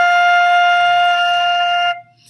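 Flute holds a single high F note, steady and clear for about two seconds before cutting off, close and alone.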